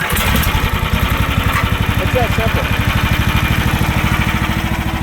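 An AGT LH12 small engine is pull-started and settles into a steady, loud, close putter. Someone talks over it briefly.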